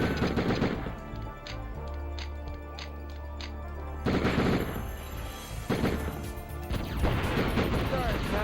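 Rapid video-game pistol fire from dual-wielded handguns, bursts of sharp repeated shots with crashes and explosions mixed in, layered under game music and someone talking.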